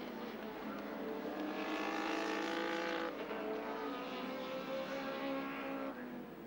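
Kevin Bartlett's number 9 touring car races at Sandown in the 1986 Australian Touring Car Championship, its engine a steady loud roar held throughout.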